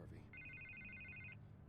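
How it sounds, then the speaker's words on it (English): A telephone bell rings in a steady electronic trill for about a second, sitting over a busy background of low rumble and voices in a tense indoor scene. "I can't get the phone to stop ringing"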